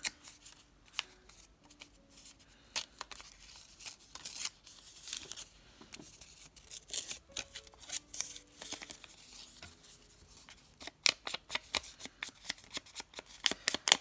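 Reclaimed paper is torn and handled for a craft photo frame, with bursts of tearing, crinkling and rustling that come close and irregular and grow busier toward the end.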